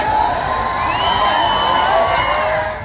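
A large crowd cheers and shouts at Rajkumar Roat's nomination rally in Banswara, Rajasthan, a dense continuous roar with whistles and whoops rising over it, loud and sustained.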